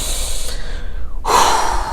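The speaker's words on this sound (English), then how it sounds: "One more deep breath." A single deep breath drawn in audibly and slowly let out, close and fairly loud against a quiet background.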